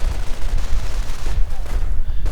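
Rapid overlapping rifle and BAR gunfire crackles in a video game battle, a dense loud fusillade of repeated shots with no pause.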